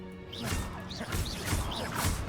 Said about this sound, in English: I'm just having a lot of fun smashing pots